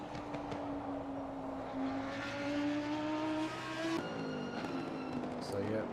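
A GT3 Porsche 911 Cup race car in a racing video game, its engine whining and droning as it climbs through revs, then a sharp gearshift drop and renewed acceleration while a commentator talks over it.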